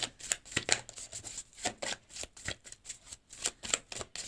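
Tarot cards being shuffled by hand, a rapid series of crisp riffling bursts and soft slaps in an irregular rhythm, close and fairly quiet with no talk over them.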